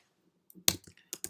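Computer keyboard typing, a few quiet scattered keystrokes then a short cluster of sharp clicks, close and alone.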